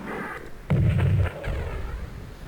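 A single heavy artillery shot fires in the strategy game Spellcross, a loud low boom that rumbles for about half a second before fading into background game ambience.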